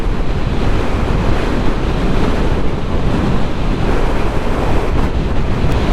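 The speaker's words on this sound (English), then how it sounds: "the wind is now much stronger than it was a few minutes ago" Strong wind roars over a rider on a Honda CB500X motorcycle on a Scottish Highland road near Speen Bridge, a steady, loud buffeting rush that never lets up, with no talking.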